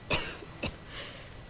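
Two short, sharp coughs from a character in the space RPG Starfield, suffering a lung illness, about half a second apart, then a soft breathy tail, close and fairly quiet.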